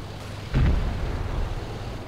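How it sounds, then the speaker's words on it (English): Artillery barrage in a World War II strategy game: a single deep boom bursts in and its low rumble rolls on without break to the end. "Coordinated barrage is on the way."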